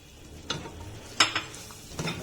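A spoon stirring red chilli, turmeric paste, cumin and coriander in a pan for a mutton curry, a few soft scraping strokes over a quiet sizzle, close and gentle, with no voices.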